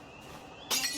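A glass bottle thrown in a video game shatters in one sudden bright burst of breaking glass near the end, after a quiet stretch of faint background ambience.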